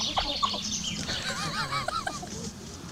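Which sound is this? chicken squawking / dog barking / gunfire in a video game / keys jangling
chicken squawking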